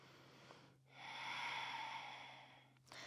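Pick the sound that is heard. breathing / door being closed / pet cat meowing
breathing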